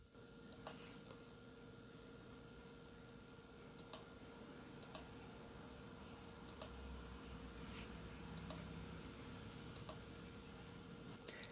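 Computer mouse clicking while commands are added to the Quick Access Toolbar in Excel: about a dozen crisp, close, often doubled clicks spaced unevenly over a steady low room hum.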